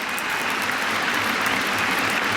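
Steady applause from a cricket Test match crowd on its feet for Alastair Cook, a dense unbroken wash of clapping held at an even level throughout.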